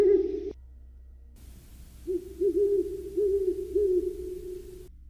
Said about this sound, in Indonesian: Suara burung hantu seolah menyambut kedatangan Ardi.